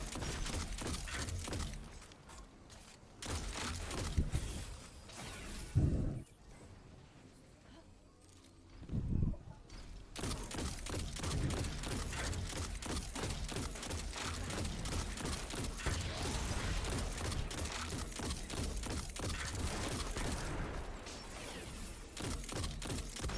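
Weapon fire from a Burning Ambition weapon in Destiny 2, fighting Cabal enemies: dense, continuous crackling shots and impacts with a few brief pauses, loud and busy throughout.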